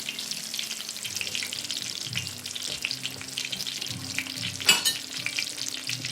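Small pieces of food frying fast in a hot pan, a steady crackling sizzle with occasional stirring scrapes and one sharper burst of spatter near the end, no talking.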